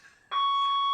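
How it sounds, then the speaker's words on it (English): Fire alarm suddenly blares after a quiet moment, a loud steady electronic tone that holds continuously to the end. "It's just a fire alarm."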